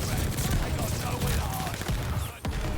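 Fully automatic gunfire from a weapon in the Call of Duty: Vanguard video game, a dense, continuous rattle of rapid shots with a brief gap near the end, loud and close, with some game noise mixed in.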